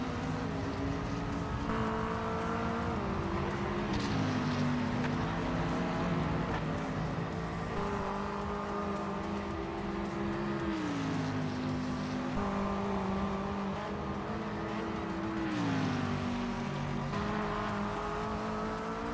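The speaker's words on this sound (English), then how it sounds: "GT3 Mustang with H-pattern shifter." GT3 Mustang race car in the Project Motor Racing video game, driven with an H-pattern shifter: steady engine drone climbing in pitch through the gears, with several distinct upshift drops, continuous and moderately loud with no talk.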